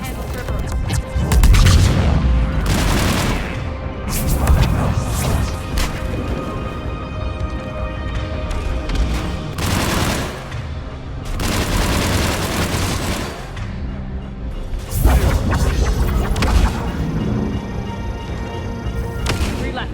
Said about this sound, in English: Those bombs just went off.